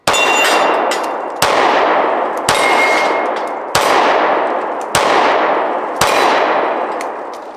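Shots from a Taurus GX4 pistol ring off a steel target outdoors: six sharp cracks, each followed by a bright metallic clang that rings out for about a second, spaced evenly and loud.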